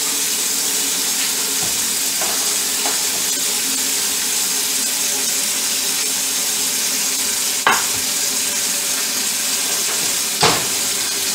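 Melted butter sizzling as it is swished around a pan while preparing a healthy meal, a steady loud hiss with a couple of sharp clinks, no talking.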